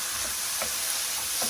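Tomatoes cooking in a pan give off a steady, close sizzle and hiss, with a few soft scraping stirs breaking through the constant frying noise.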